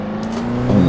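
Race car engine in Assetto Corsa, held at a steady droning pitch that swells louder near the end as the car brakes hard into a tough corner, heard alone without talk.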